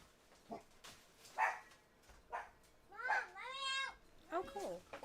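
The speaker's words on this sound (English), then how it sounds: "the dogs are probably barking at the mailman" Dogs bark indoors at a mailman, several sharp yelps and a drawn-out whine at moderate distance, with a person talking nearby.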